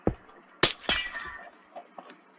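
Glass blocks breaking in Minecraft, two sharp shattering crashes close together followed by a fading tinkle and a few faint clinks.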